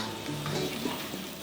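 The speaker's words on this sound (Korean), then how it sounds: "60년대 그런 볶음밥을 지금까지도 고집으로 볶고 있어요" Cooked rice with carrot and chopped green onion stir-fried in hot meat-frying oil in a 1960s-style fried rice, giving a steady close sizzle with scraping stirs, heard alone.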